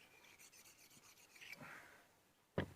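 A Moulinex mincer blade is rubbed flat on a sharpening stone, giving faint gritty scraping strokes close by that end in one short louder scrape or clack.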